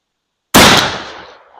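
A single loud, close gunshot from a 32 gauge H&R shotgun firing a .510 385-grain bullet at a range, one sharp blast after brief silence, then a fading echo tail.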